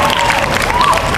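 A school assembly crowd applauding a class 9B student, steady dense clapping filling the space with a voice speaking over it.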